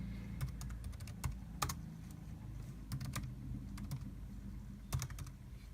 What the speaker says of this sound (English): Not the greatest typing experience in the world